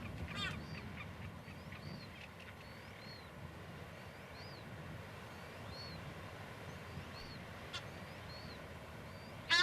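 Seabird colony of boobies, frigatebirds and manutara on a Rapa Nui islet, with scattered distant calls and chirps rising over a steady breezy wash of wind and surf, ending in a brief louder gust.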